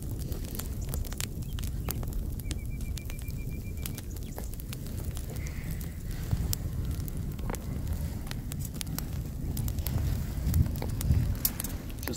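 A campfire in a damp, wet forest crackles steadily, with scattered sharp pops over a low continuous hiss, nearby and free of talk.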